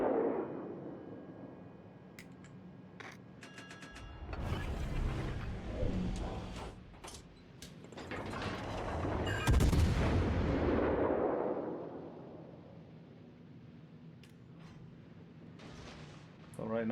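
Warship naval guns in World of Warships Legends, heavy booming salvos rolling out in long swells between quieter stretches, with sharp ticking game effects and a voice talking over parts of it.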